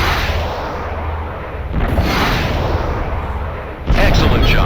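Harpoon missiles launch in rapid succession at a transport in the space combat game Freespace 2, loud booming blasts rolling one into the next with a fresh sharp burst near the end.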